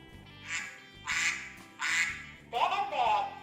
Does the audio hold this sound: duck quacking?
yes